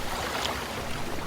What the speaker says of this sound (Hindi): धीरे धीरे लहरें तेज होने लगती है।